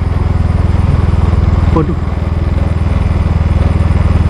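A motorcycle engine idles and putters steadily on a dirt path, its low, even drone running close and loud throughout, with a man briefly exclaiming over it.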